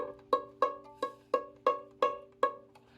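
A single bowed violin C sharp on the A string repeated seven times in an even rhythm, each stroke with a clear attack and quick fade, close and alone.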